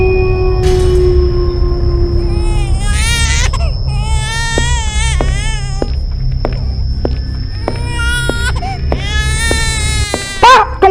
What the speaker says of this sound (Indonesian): Seperti ada suara bayi menangis dari arah mumpun bambu.